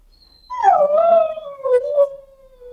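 A chocolate Labrador puppy, rescued from living in trash, lets out a loud, drawn-out whimpering whine that slides downward in pitch, close by, with a brief rise near the end.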